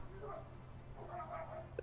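Dogs barking and whimpering outside, faint and distant, a few short yips and bow-wows over a steady low hum of the room.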